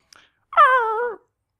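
A person imitates a dog's bark with a single drawn-out, wailing howl-like vocal bark lasting about half a second, close and loud, after a brief soft sound and then silence.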